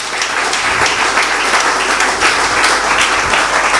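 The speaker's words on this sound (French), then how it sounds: "Est-ce qu'on peut acclamer pour toi?" A church congregation applauds and cheers during a wedding celebration, steady dense clapping filling the room at full volume throughout without pause.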